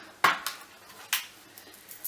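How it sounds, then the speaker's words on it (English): A Morphe 35W eyeshadow palette being handled and opened, with a loose-panned case giving a sharp click, then a few lighter taps and rattles of its metal pans. The sounds are close, brief and spaced out, with no talk. "I'm going to show you my Morphe 35W palette, which looks like this on the outside. And then I'll just open it up."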